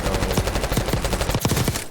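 Rapid automatic gunfire crackles in the video game Warzone, a dense burst of close, loud shots firing in quick succession for about two seconds.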